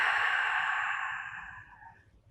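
A long, steady exhale during a beginner Pilates mat exercise, breathy and close, fading gradually over about two seconds with no talking.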